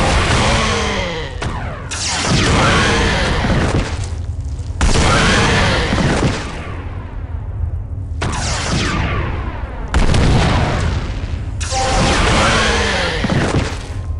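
A charged staff weapon firing in the game Realms of the Haunting, several loud booming discharges in succession, each one a long roaring burst with a rising whoosh, separated by brief gaps.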